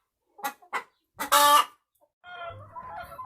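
Chickens in a poultry shed that holds about 200 birds give a few short clucks, then a loud drawn-out squawk, then softer murmuring clucks, all close and clear with no talk.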